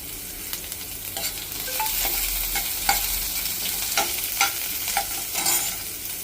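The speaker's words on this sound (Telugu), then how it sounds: "2 ఎండుమిర్చి, కొద్దిగా ఉల్లిపాయ ముక్కలు సన్నగా కట్ చేసి కొంచెం దోరగా వచ్చిన దాకా వేసేసుకోవాలి" Garlic, two dried red chillies and thinly sliced onion pieces frying in oil in a pan for tomato dal, with a steady close sizzle and scattered stirring scrapes throughout.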